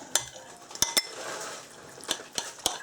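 A spoon clinks against a bowl while crab cake mixture is stirred, giving a few sharp taps and scrapes over a soft wet churning, close and fairly quiet, with no voices.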